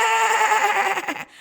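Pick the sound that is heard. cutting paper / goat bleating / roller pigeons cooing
goat bleating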